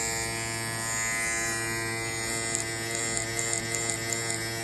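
A Babyliss Low Pro electric hair clipper runs freshly oiled, giving a steady close-up buzzing hum with a bright whine, held evenly throughout with a few faint clicks near the end as it is rotated.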